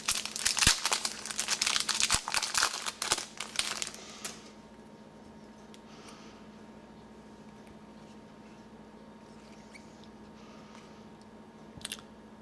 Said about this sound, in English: Lay that to the side and we will begin with the pack opening.